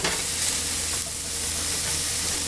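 Finely diced red onion sizzling in a pan for a zucchini blossom frittata, a steady close frying hiss with a faint stir near the start, continuous and alone.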